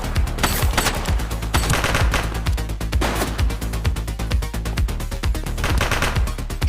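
Gunfire erupts during a police video game shootout, rapid bursts of loud shots in dense, overlapping volleys that continue without pause.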